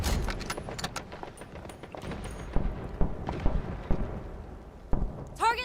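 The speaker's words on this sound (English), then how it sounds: "Our radars indicate cloud thickness is increasing. Adjust attack plans to adapt to the impending storm." An approaching thunderstorm in the video game Delta Force, with low rumbling thunder, scattered sharp cracks and crackling impacts under a steady rain wash, ending in a brief high-pitched electronic chirp.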